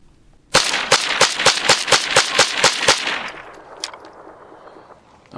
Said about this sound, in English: Gonna put another 10 rounds through the 1022 just to make sure